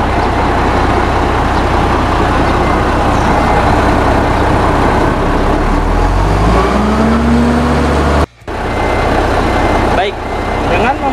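A super high pressure foam unit's engine runs loudly nearby and rises in pitch as the throttle is turned up. It cuts off abruptly near the end and then picks back up, with someone talking over it.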